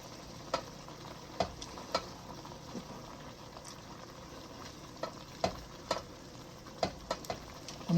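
A pot of Nigerian Afang soup with periwinkles simmering on the stove, a quiet steady bubbling with scattered sharp clicks and ticks from the shells and pot.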